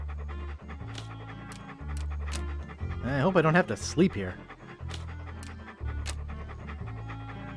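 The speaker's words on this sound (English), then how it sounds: "What a ferocious looking dog." A dog pants heavily in a steady rhythm in the video game Monkey Island 2, mixed with game music and heard under someone talking.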